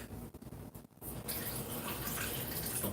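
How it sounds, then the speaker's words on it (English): Water runs steadily from a tap into a container, a continuous bright hiss that starts abruptly after a second of quieter room sound and stays loud and close. "Let me go and fill this up with water"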